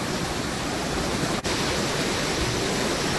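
Fast-flowing Himalayan river water rushes beneath a hanging bridge on the Pindari Glacier trail in Kumaon, a loud, steady broadband roar with no pauses and no talking.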